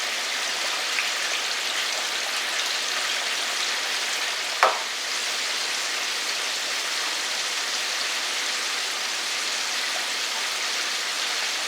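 Buttermilk chicken frying in hot oil gives a steady, even sizzle throughout, close and constant, with one brief pop partway through and no voices.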